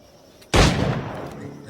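A single sharp pistol shot in the pirate-era video game Assassin's Creed 4 Black Flag, a sudden loud crack halfway through followed by a long rumbling decay over quiet background.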